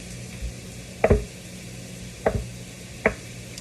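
A knife cuts a solid block of pressed tofu into bite-sized squares, three sharp taps on a cutting board at irregular intervals over a quiet kitchen background.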